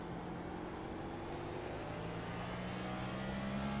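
Race car engine held on steady throttle in a sim-racing league event on the Indianapolis Motor Speedway road course, a continuous droning whir with slowly rising pitch, moderately loud and alone with no voices.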